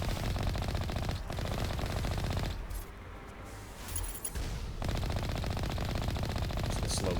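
Gunfire in Mass Effect Legendary Edition while the player's vehicle slides down a mountain, with a dense rattling stream of shots and rumble that drops away briefly mid-clip and then resumes, with some speech over it.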